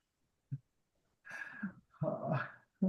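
A dog barks a few times nearby in a quiet room during a yoga class: one short yip, then two longer, rough barks with a brief final one, no talking over them.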